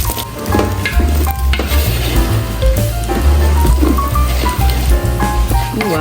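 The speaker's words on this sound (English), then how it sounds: "Trying to fry the rice." Rice frying in a pan during home cooking, a steady loud sizzle and crackle with stirring scrapes throughout, no talk.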